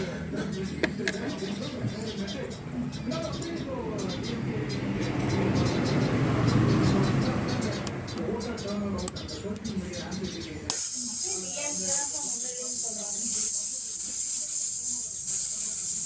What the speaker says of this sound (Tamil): காற்றை பிடுங்கி விட்றலாம்.